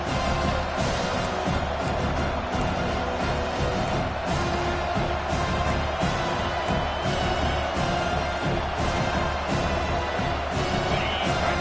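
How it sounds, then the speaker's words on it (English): A loud, dense stadium crowd in an American football video game roars continuously, a thick wall of cheering and noise with no breaks. "Listen to this crowd just shaking the girders of this place"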